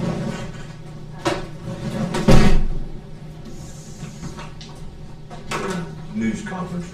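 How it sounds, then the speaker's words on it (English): A door shutting in a county commissioners' meeting room, one solid thud among a few lighter knocks and clatters, with people talking in the background. "Just when the door shut"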